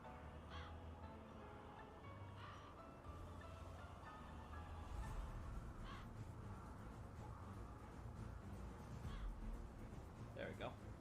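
Crows caw repeatedly in a video game, several short harsh calls scattered across a steady bed of game ambience with a voice talking over them.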